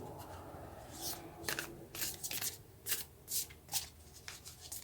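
A deck of Moonology oracle cards is shuffled by hand at close range, with repeated crisp riffling bursts and soft sliding rustles in an uneven rhythm, and no talking over them.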